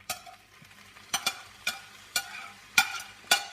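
Green peas and shredded carrot tossed into fried brown rice in a cast iron pan, giving a soft steady sizzle broken by about six sharp scraping stirs of a utensil against the pan.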